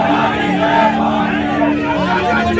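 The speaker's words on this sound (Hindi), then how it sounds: "कैसे यहाँ पर अखिलेश यादव मुर्दाबाद के नारे लगाए जा रहे हैं" An angry protest crowd from the Kshatriya community chants slogans against Akhilesh Yadav in the street, many voices merging into loud, rhythmic shouting close by.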